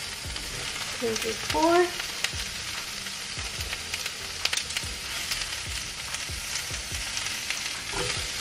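Tofu sizzling as it warms in a pan, a steady crackling fry noise with occasional stirring scrapes, while a person speaks briefly over it.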